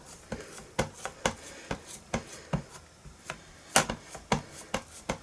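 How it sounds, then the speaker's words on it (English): A rubber stamp is pressed down and inked with Versamark ink on a card-making table: a steady series of about twenty sharp, quiet taps and pats, close and in an uneven rhythm, with no talking. "I'm going to put my stamp down again, pick it up with the lid, and then just ink it up again"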